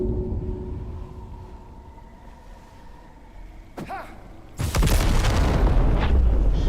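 An alchemist's fire flask explodes in Baldur's Gate 3: a low ambient hum, a brief whooshing sweep, then a sudden loud, rumbling blast that keeps roaring to the end.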